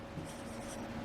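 A quadratic equation being written out by hand during a class 10 maths lesson, heard as a steady, close scratching of the writing stroke against a low room hum.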